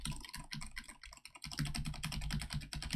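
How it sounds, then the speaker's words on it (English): Rapid computer keyboard typing captured by a desk microphone, with dense, continuous clattering keystrokes that briefly thin out, then resume loud and steady. "I know my microphone picks up a lot of my keyboard"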